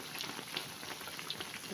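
Thin slices of tempeh frying in hot oil for tempe mendoan, a steady, dense sizzle and crackle with small pops throughout, close and continuous.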